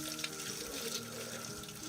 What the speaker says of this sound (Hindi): अब इनको थोड़ा सा धो लेती हूँ